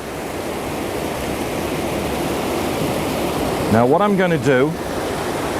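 River water pours steadily over a weir into churning white water, a loud, continuous broadband rush close by, with someone briefly talking over it near the end.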